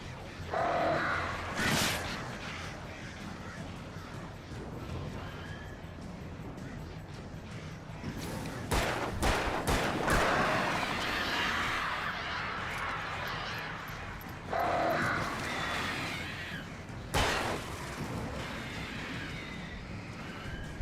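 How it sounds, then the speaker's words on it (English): Several crows in the video game Alan Wake give harsh, repeated caws in bursts over a steady ambient game background, fairly close and loud, with no voices. "Go away, birds."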